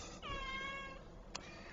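A kitten named Little Doubloons gives a single clear, rising-falling meow close to the microphone, followed by a brief faint chirp, with room hum beneath.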